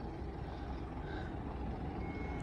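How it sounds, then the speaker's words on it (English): A bus idling or passing at a rural sculpture event in Dungog, New South Wales, a steady loud low engine rumble filling the whole moment, close by, with a faint tone near the end. "Uh-oh, there's another bus."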